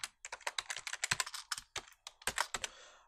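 Rapid, uneven keystrokes on a computer keyboard as a password is typed, a close, crisp flurry of clicks with brief pauses between bursts and no talking.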